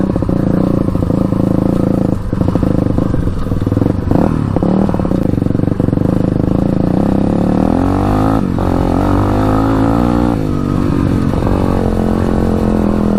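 Engine of a Honda 200X converted to two wheels, loud and close throughout while being ridden through tall grass, with a steady harmonic drone, shifting pitch and rattling clatter from the bouncy ride.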